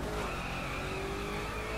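A Koenigsegg Agera R in The Crew video game with its tires spinning, a sustained loud screech over a steady engine drone, close and continuous.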